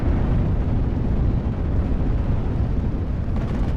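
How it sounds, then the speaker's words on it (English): A Panzerfaust ammo explosion in the WWII strategy game Steel Division: Normandy 44, a loud, sustained, dense rumbling roar with heavy low end that barely fluctuates throughout, no talking. "that's an ammo explosion from the Panzerfaust"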